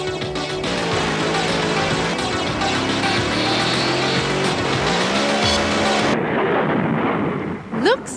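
Race cars roar close by along Paris city streets, near the Eiffel Tower, with engines whining and shifting pitch as they speed past. Tire noise rises near the end, then a brief quieter gap follows.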